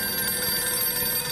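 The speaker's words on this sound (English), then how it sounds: "What am I supposed to do with a ringing phone?" A telephone bell rings in one continuous, bright, close trill that fills the short moment, loud and unbroken, with no speech.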